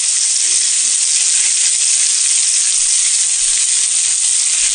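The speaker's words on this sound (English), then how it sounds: "here I have added garlic paste." Garlic paste frying in a hot pan for an egg masala curry, a loud, steady close-up sizzle with no talking.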